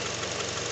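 A Honda car engine idles in a steady, close, even rumble with a faint knocking texture, heard alone for a brief moment.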